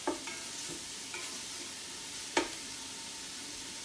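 Bacon frying in a pot as the base for clam chowder, a steady quiet sizzle with a few soft stirring scrapes and one sharper clack partway through, no voices.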